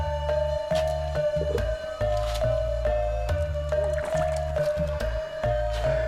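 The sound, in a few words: water being scooped up at a holy site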